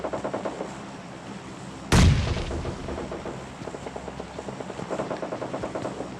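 A single loud, booming gunshot cracks out in a PUBG Mobile battle, then lower rumbling follows alongside a steady, rhythmic thumping that resembles a distant helicopter or machine-gun fire.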